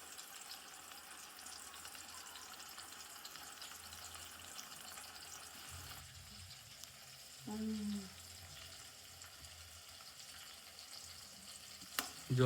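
Tomatoes and onions fry in oil over a low gas flame for a village-style chutney, a faint continuous sizzle with a few soft clinks of utensils.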